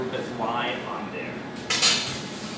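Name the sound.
aluminum sheet pans being handled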